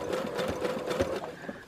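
Sewing machine running a satin stitch with variegated thread while appliquéing a foundation paper-pieced quilt project, a steady fast whirring needle rhythm held at a slow, even pace, close and continuous without speech.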